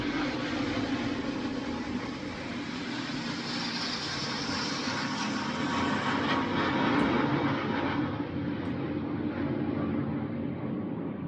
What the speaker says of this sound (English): A jet flew by.